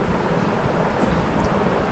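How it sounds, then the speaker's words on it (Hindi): Heavy monsoon rain in Kolkata, a loud, dense, continuous roar of downpour with a low rumble of thunder underneath and no voices. "मूसलाधार बारिश हो रहा है कलकत्ता में बाबा"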